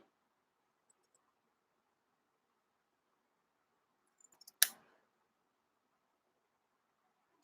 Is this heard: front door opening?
no